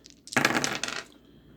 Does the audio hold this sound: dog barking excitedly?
no